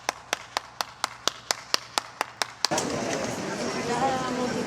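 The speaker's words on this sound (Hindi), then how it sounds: "ताली बनती है इस चीज़ के लिए।" A lone person claps hands about eleven times in a steady rhythm, sharp and close, then the claps stop and gives way to broadband street noise from Copenhagen traffic.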